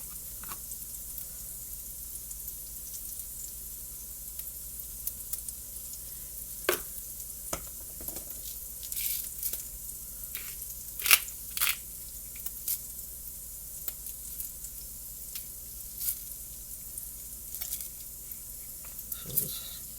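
A T-bone steak sizzles in a hot pan, a steady soft frying hiss broken by scattered sharp crackles and pops, with occasional handling noises and no talk.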